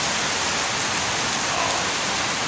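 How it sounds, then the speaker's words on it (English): Steady rain falls in a dense, even hiss that stays constant without a break. "the poor ice cream guy gotta walk in the rain"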